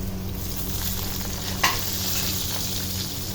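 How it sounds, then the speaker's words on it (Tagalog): Laing ingredients sauté in a hot pan with steady frying sizzle and stirring, a continuous crackle with a brief sharper scrape of the utensil midway, no voices present. "nagigisa ng panglaing"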